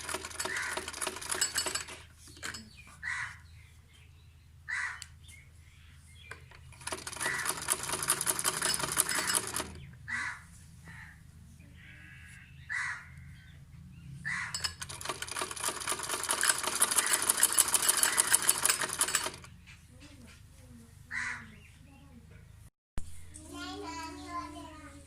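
A sewing machine stitches a kameez neckline in bursts of rapid, rattling needle strokes, running for several seconds, stopping, then starting again, heard close with brief quiet gaps between runs.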